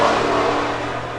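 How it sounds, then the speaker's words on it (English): A motorcycle engine drones past outdoors as a broad, steady rumble that slowly fades, heard fairly loud with no voices over it. "I'll let that motorcycle pass"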